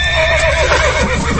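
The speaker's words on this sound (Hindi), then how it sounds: "घोड़े आगे नहीं जाना चाहते, इन्हें उसकी भनक लग गई है।" A horse gives a loud, close whinny lasting just over a second, a wavering high neigh over a low rumbling background, with no voices.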